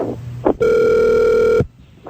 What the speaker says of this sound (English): I'm ringing him up right now.